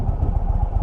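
An Indian motorcycle engine on a test ride runs close and loud with a steady, throbbing low pulse, heard alone for under a second.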